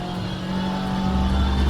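A heavy 4-litre BTCC race car engine in a racing sim drones steadily and loudly on track, a continuous close engine roar with no voices.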